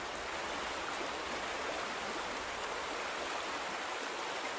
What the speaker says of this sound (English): The water's more shallow. The current's not as heavy.